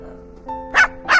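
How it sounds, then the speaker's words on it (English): A friendly dog barks twice in quick succession, two short bright barks close by that rise over a faint tonal background. "The dog barked happily"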